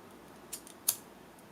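Scissors snipping through synthetic fabric near a bag zipper: two short, crisp snips about a third of a second apart, close and soft over a quiet room background.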